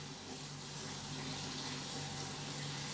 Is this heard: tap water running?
yes